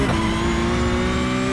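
Race car engine in a sim racing game at Monza approaching the Lesmo corner, loud and close, a steady high drone as power is fed in, with no talk.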